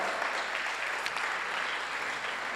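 An audience at a fashion show in Bratislava claps in sustained, dense applause, a steady wash of many hands from a sizeable crowd, fairly loud and even throughout, with no voices standing out.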